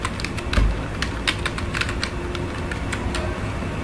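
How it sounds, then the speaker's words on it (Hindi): Name typed on a computer keyboard while building an Excel salary sheet, a steady run of quick, light key clicks with a few sharper taps, close and alone. "तो मान लीजिए हम एक पर्सन का नाम और टाइप करते हैं"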